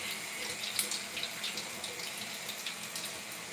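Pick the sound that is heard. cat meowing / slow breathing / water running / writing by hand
water running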